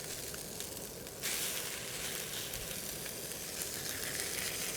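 Korean fish omelette parcels sizzle loudly and steadily in a hot frying pan after being flipped, the crackling hiss jumping louder partway through and continuing alone without talk.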